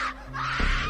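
A woman screams in a horror story, a loud, strained cry that breaks off briefly and then surges again in a second drawn-out wail, heard alone without talk.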